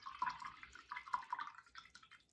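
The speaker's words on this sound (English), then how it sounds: "We just want to wash off our small brush in the water" A small paintbrush is rinsed in a pot of water, making faint, quick drips and light splashes in an irregular patter, fairly quiet with no voices.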